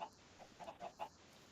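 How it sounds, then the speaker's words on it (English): A chicken in a Minecraft modpack world clucks softly several times, a short run of faint, evenly spaced clucks with quiet gaps between them. "Where did that chicken just go?"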